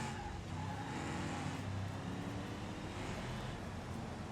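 Rallycross cars racing wheel to wheel on a dirt course in a video game, a dense continuous roar of several engines with tire scrub and skidding noise, steady and moderately loud with no talk.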